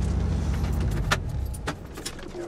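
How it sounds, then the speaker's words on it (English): A car parked for a van-living day is switched off with its keys: a faint metallic jangle and a few clicks over a low, steady engine hum that fades. "let me turn off my car"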